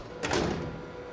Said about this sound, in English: This door is locked.